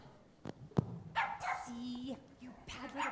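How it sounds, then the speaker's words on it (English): A puppy barks in a few short yips and whimpers close by, with people talking over and between the sounds. "See, you bad little puppy."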